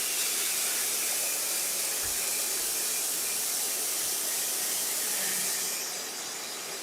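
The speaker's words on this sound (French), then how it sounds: "C'est pas de la bouteille, c'est de la stime. C'est le vin qui s'évapore." Wine evaporates in a hot pan with a loud, steady steam hiss that runs without a break and softens slightly toward the end.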